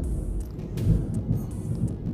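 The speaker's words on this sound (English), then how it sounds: "Pardon the thunder. It's throwing down over here" Heavy storm thunder rumbles low and steady, with a deeper swell partway through, under a faint wash of rain.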